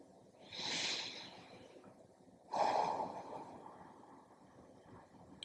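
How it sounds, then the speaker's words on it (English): Two slow breaths through the nose during a yoga session, a soft airy inhale followed by a longer exhale, close and quiet with no talk. "Continuing long, smooth breaths, inhaling and exhaling through the nose."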